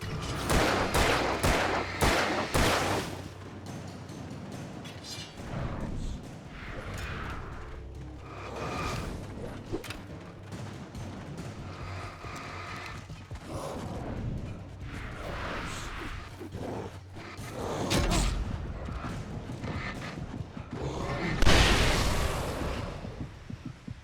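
A flare gun fires in Alan Wake Remastered, heard as loud bursts and blasts scattered among rumbling game noise, with a heavy thump near the end.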